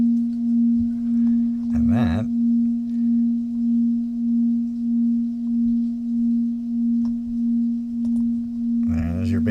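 A steady synthesized bass tone for chakra tuning hums on throughout, with a slow, regular pulsing wobble in level, as a voice briefly speaks over it now and then.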